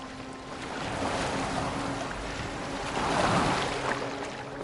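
A boat glides across open water in Assassin's Creed Valhalla, a steady wash of water and wind rising and falling, with a brief low thump near the middle and a swell of surge toward the end.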